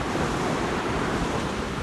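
Ocean surf at a beach at sunrise, a dense, continuous roar of breaking waves with wind buffeting the microphone, loud and close throughout.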